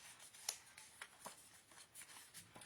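Paper being folded into pockets for a 5x7 scrapbook album, quiet dry crinkles and soft creasing rustles in a few short bursts, close and faint.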